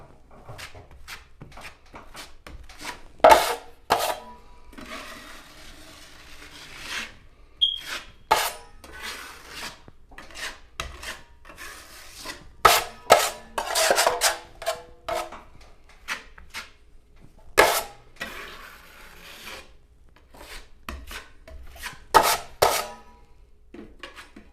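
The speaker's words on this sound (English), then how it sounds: "Now I'm going to use the 6-inch knife to apply it to the wall." A 6-inch putty knife scrapes and smears joint compound across a drywall surface in repeated rasping strokes, separated by short pauses and a few sharp taps.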